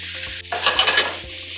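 Shrimp with onions, cumin and paprika hitting a hot pan and being stirred, a bright sizzle bursting up after a quiet hum and then settling to a softer fry.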